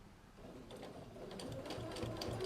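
A sewing machine stitches down quilt binding, its motor starting softly and building into a fast, even whir with rhythmic needle clatter, close and quiet, with no talking.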